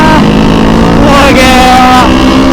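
Kawasaki Ninja 250 FI modified as a supermoto, engine revving hard and accelerating with rising pitch, loud and close on the road, mixed with wind buffeting and a voice.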